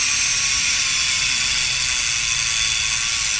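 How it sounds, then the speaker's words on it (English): An Ethirteen Boost 148 rear hub on a 2021 Commencal Clash mountain bike freewheels with a rapid, steady ratcheting buzz that stays loud and close, with no speech. "I love the sound of the hub."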